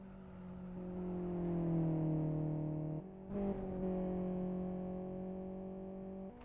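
Racing car engine in the Live for Speed sim crossing the start-finish line, a steady loud harmonic drone with a brief dip and gear change midway, then holding its pitch.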